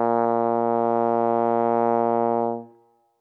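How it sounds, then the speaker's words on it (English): A trombone sustains a steady B flat in first position for about two and a half seconds, a rich, bright brass tone with strong harmonics, then fades out cleanly with no one talking. "So Lisa played the B flat note on the trombone, first position."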